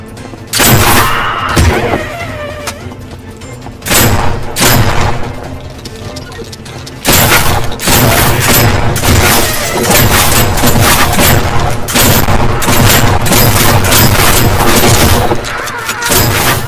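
Repeated booming shotgun blasts in a horror video game, fired against ghosts; heavy bursts come in clusters with brief lulls, loud and close throughout, mixed with game music and effects.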